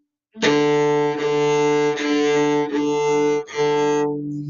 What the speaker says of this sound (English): place that bow in the sweet spot on the D string and let's play 5 of those together